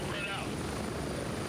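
A helicopter in the military shooter Gray Zone Warfare drones with steady rotor and engine noise, loud and continuous throughout with no gaps.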